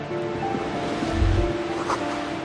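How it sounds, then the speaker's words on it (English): Ocean waves wash steadily in the dark of a coastal video game scene, a continuous low surf roar with a slightly heavier surge midway and no voices. "Waves crashing in the darkness."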